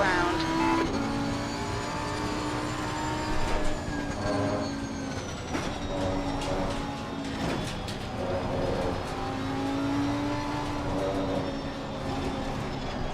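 Racing cars in the video game Assetto Corsa Competizione, including a BMW, run side by side with steady high engine whine and shifting tones, loud and continuous, with a few brief bumps and passing surges.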